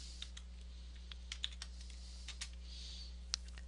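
Scattered soft clicks of buttons pressed on a graphing calculator keypad, irregular single taps spaced apart over a quiet background hum, with no voices.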